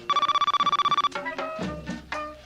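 Telephone bell rings in a rapid repeated trill for about a second on a radio call-in show, followed by brief tonal electronic tones and clicks as the caller's line connects; no talk.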